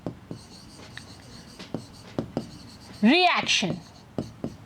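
Pen or marker writing on a board during a chemistry lesson, repeated short scratchy strokes at an irregular rhythm, close and fairly quiet, briefly interrupted by a teacher's spoken word.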